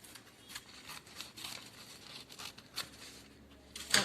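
Paper is cut into a petal shape with scissors for a crown craft, producing a series of soft, faint snips and crinkles, close by and uneven in rhythm.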